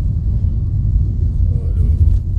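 A heavy truck from Sumatra rolls past on a road between Surabaya and Bali, a loud, steady low rumble of engine and tires that holds close throughout with no pause.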